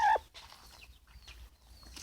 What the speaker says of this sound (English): this is my rock and roll chicken, Rocky